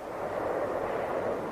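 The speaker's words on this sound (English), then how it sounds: "Tactical fighters continue their precise attacks, complementing the heavy bombardment of the B-52s" Heavy B-52 bombardment at Khe Sanh in 1968, heard as a dense, distant rolling rumble of explosions that blur together into one steady roar, with no distinct single blasts and no speech.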